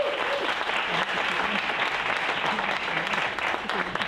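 Sustained audience applause welcoming Dr. Nabil Azzam to a medical lecture, steady and full across the whole stretch with no break, the clapping of a sizeable room heard close and loud.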